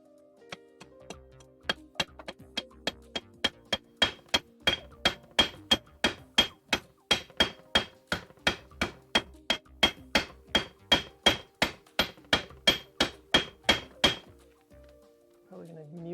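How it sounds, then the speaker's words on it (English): A ball peen hammer strikes leather on a hard surface in a craft studio, about thirty sharp, evenly spaced blows that grow steadily louder, heard close up and alone. "I kind of just like to use the ball peen hammer a bunch"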